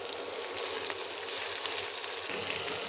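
Chopped onion and crushed garlic fry in hot oil with dried red chilli and black cumin, a steady, loud, close sizzle and crackle that holds without pause.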